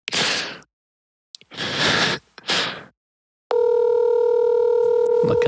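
Phone call placed on speaker, several breathy whooshing bursts followed by a steady, loud, continuous electronic tone that holds to the end.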